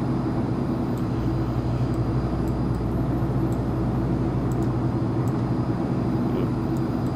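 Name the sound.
turboprop airplane flying in the video game X-Plane 11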